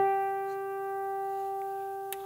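A single bell-like guitar harmonic on the 12th fret rings out clearly and sustains, slowly fading, with a faint tap near the end.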